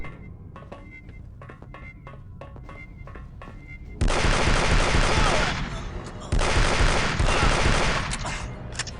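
Pulse rifle gunfire in Aliens Vs Predator 2: a string of sharp separate shots, then a sudden loud sustained burst of heavy automatic fire that continues in dense waves with booming impacts.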